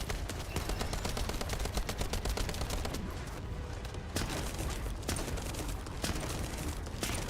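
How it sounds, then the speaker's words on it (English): Rapid bursts of shotgun fire in The First Descendant video game, loud, close blasts in quick clusters with brief gaps, separate sharp shots standing out near the middle and end. "pump a few shotgun rounds into this person's head"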